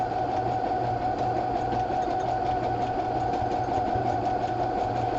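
A sewing machine runs steadily, stitching around the edge of a fabric crumb square, with a continuous mechanical whir and a rhythmic low thump. No voices are heard.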